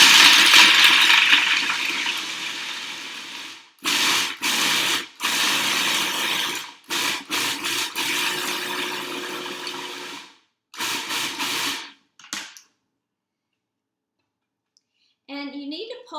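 Food processor pulsing raw vegan pumpkin cheesecake ingredients such as dates and nutmeg, loud grinding bursts in a start-stop rhythm, then silence and a short voice at the end.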